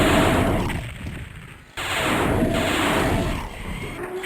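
Doom 64 gunfire comes as dense, loud, rapid shots in two sustained bursts separated by a sharp break, each echoing boomily, with no voice over them.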